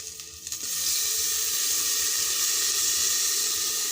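Ginger, garlic and onion paste sizzles and fries in hot oil for dal, a bright, steady hiss that swells after a brief stir and holds evenly, close and alone without speech.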